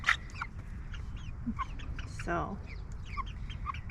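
Chickens cluck and chirp in a backyard chicken coop, scattered soft calls close by with a louder squawk partway through, while a voice speaks briefly.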